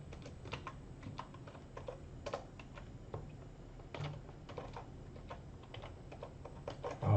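Quick keystrokes tapped on a computer keyboard in an office-hours setting, a steady run of light clicks with short pauses and a louder burst at the end, no voices.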